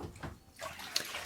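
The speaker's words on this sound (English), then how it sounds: "I'm going to put them under some running water" Rusty Genie extractors from a 4AGE engine rinsed under running water, a brief gush and splash that swells near the end.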